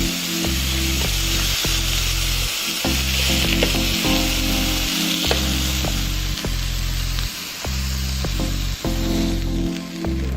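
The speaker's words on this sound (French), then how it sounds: "on va faire revenir le Saint-Jacques" Scallops sear in a hot pan with a loud, steady sizzle. A rhythmic low rattling and scraping runs underneath, as if the pan is being moved, and nobody speaks.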